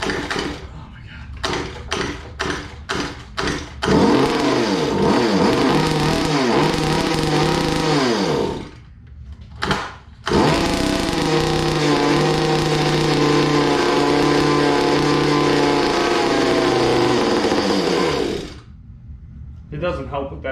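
Small gas engine on a Goped scooter, carb suspected worn out. A few short pull-cord sputters come first, then the engine catches and revs loud and buzzy, stops briefly, restarts and runs on before cutting out.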